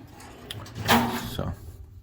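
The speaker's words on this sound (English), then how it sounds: "a fourth one opens and closes smoothly, and this one here comes out smoothly as well" A metal file cabinet drawer sliding open and shut, a brief scraping glide with a soft thud near the end, close and short, surrounded by faint room noise.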